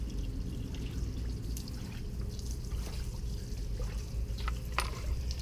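Water trickles and pours steadily as it drains from a compartment of a boat on a trailer, with small drips and splashes over a low continuous flow, fairly quiet and with no talking.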